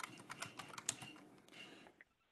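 Quick run of keystrokes on a computer keyboard while entering a Linux command, close and fairly quiet, a dozen or so uneven clicks before it stops.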